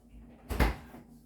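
Bosch refrigerator doors swing open in a single soft, short thump with a brief rustle, close by and alone.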